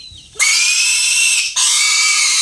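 A sick rescued piglet squeals loudly while being massaged, two long piercing shrieks close up, separated by a brief gasp.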